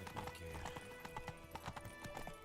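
Horse hooves in Witcher 3 around White Orchard, a steady, rhythmic clip-clop of a ridden horse moving at pace, fairly faint under game background sound.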